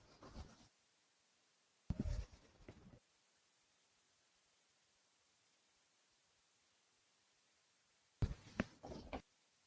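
A lecturer writing on a board during a lecture, with short scratchy bursts of chalk or marker strokes separated by long quiet pauses, in a room with faint background hiss.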